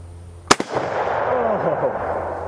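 A single loud, close shot from a Finnish Mosin Nagant M27 rifle, a sharp crack with a quick echo that decays into a long rumbling tail.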